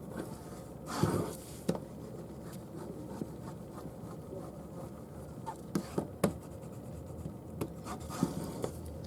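A bone folder rubs and presses along folded paper while making a small craft, producing soft scraping strokes and occasional sharp taps over a steady low background hum, with no talking.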